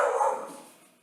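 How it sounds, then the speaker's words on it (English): A dog barks outdoors with children playing somewhere nearby, giving a short burst that fades within about a second. "there goes my dog"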